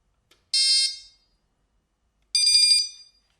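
A DAM Hi-T electronic fishing bite alarm gives two loud, shrill buzzing tones, each about half a second long, separated by a silent gap of over a second.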